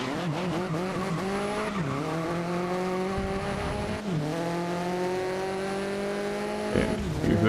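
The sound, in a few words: Koenigsegg car engine in video game GRID (2019)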